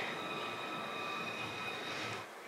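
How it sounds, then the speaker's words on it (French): A tram rolls past with a steady rumble and high whining tones, close and even, fading at the very end. "le tramway."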